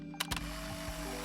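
A few quick mechanical clicks of a camera shutter in the visual novel game Love is Strange, brief and close, over a soft steady background hum.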